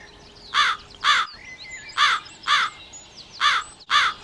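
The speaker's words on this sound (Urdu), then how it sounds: "کوے کے چلانے کی آواز سن کر چڑیا بھی وہاں پہنچ جاتی ہے۔" A crow caws loudly six times, the harsh calls coming in close pairs, with faint chirps from smaller birds in the background.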